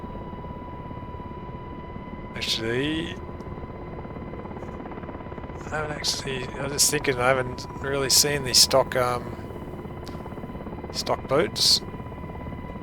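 An MH-60R variant of the UH-60 helicopter flies in a flight simulator with a steady, even rotor and turbine hum running beneath someone talking.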